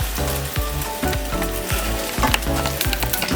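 An egg fries in a pan for a Kenyan-style egg stew, giving a loud, continuous close-up sizzle with faint scraping and stirring noises and no talk.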